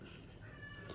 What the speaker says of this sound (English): My cat.